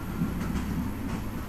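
Steady low rumble of a train in motion from the video game Broken Sword: Shadow of the Templars, a continuous rolling drone with faint rhythmic swells, heard alone with no voices.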